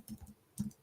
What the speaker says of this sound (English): Just typing some stuff as it comes to my mind.